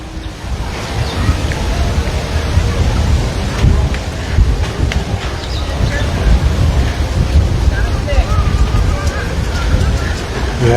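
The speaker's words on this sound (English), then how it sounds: "The wind is obviously a little bit more prominent here" Strong wind gusts buffet the microphone during a rainstorm in Waikiki, Hawaii, a steady loud roar with low rumbling surges, close and continuous throughout.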